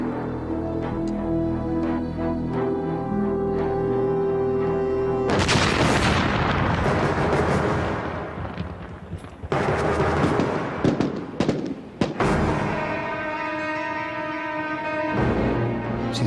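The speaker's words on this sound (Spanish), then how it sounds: "habíamos hecho estallar 2 de 8 minas enterradas en el desierto" Buried land mines exploding in the desert during the War of the Pacific: loud, close blasts burst out of a music-laden background, followed by further rumbling booms and crackling debris.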